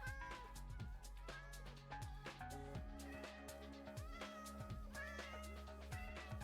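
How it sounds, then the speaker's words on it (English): Cats meowing in the video game Minecraft, a dense village overrun with cats, repeated overlapping meows and cries layered over steady background game music, loud and continuous. "This village has just been overrun with cats."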